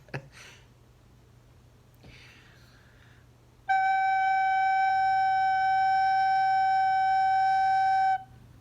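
Recorder sounding a steady, clear G note for several seconds after some soft breaths and rustling, close and alone.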